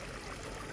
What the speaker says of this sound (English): So this flowing water really helps calm them down